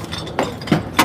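Metal cans are sorted and handled, producing a few sharp clanks and clinks spaced through a brief moment, close and fairly loud.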